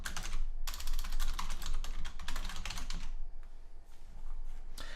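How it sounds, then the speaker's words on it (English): A site name typed quickly on a computer keyboard, a dense patter of crisp, close key clicks in steady bursts, with a brief pause before the last few keystrokes, and no voices. "I'll just type in something I know is going to be available"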